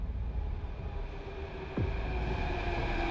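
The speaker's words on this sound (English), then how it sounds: "I'm about to get hit by a train" A train rushes in to hit the player in the video game Turnout, its rumble and steady horn-like tones building, then swelling sharply near the end with no voices.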